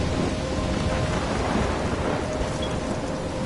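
A thunderstorm in the game Life is Strange: heavy rain pours steadily in a dense, broadband wash, with low rumbling thunder underneath, loud and continuous with no voices.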